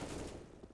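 Rifle fire from Counter-Strike on the Vertigo map during an IEM Sydney match, a short dense burst of rapid shots at moderate level, no voices.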